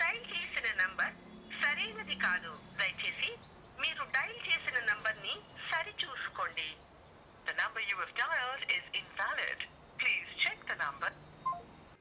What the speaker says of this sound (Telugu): ఏదైనా నెంబర్ డయల్ చేసి మీకు స్పీకర్ అవుట్పుట్ కూడా వినిపిస్తాను